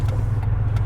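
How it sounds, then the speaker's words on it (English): A truck passing close behind someone outdoors: a loud, steady low engine rumble throughout with no one talking. "Sorry, truck behind me, I apologize."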